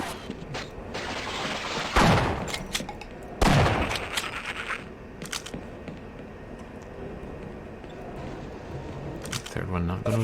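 Two loud shotgun blasts from Half-Life ring out a second and a half apart over game ambience, followed by scattered clicks and thumps, with a voice talking in the background.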